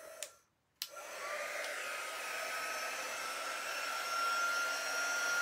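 A quick-dry blower tool pushes air in a steady, even whoosh after a brief click and pause, holding a constant faint hum for several seconds.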